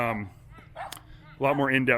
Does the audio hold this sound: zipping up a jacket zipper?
no